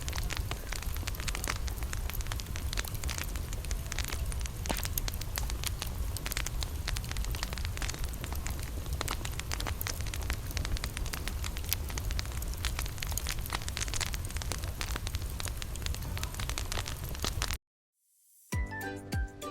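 Brown sauce thickened with starch, for a Salisbury steak of minced meat, simmers on the stove with a steady dense crackle and bubbling that runs unbroken until it cuts off abruptly near the end; no talking.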